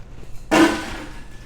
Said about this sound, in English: Now I'm going to throw my ice away.